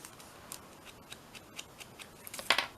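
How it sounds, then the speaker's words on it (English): Scissors make a series of quiet, quick snips through paper during a paper-flower bouquet craft, with a louder cluster of cuts near the end and no talking. "Snip that bit off."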